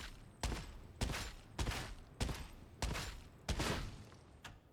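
Heavy bursts of gunfire from an Ogryn's weapon in Warhammer 40K: Darktide, six loud booming shots spaced roughly half a second apart, each with a short rumbling tail, with no talk.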